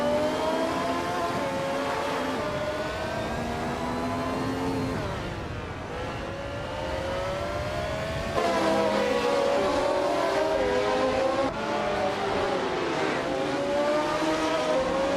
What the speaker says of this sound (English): Maya is starting on pole, driving a 1971 March 7 11 Ford.